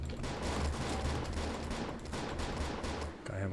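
Rapid bursts of gunfire from a gun in the video game Nifty Island crackle in dense, repeated volleys at moderate volume, with a brief pause near the end.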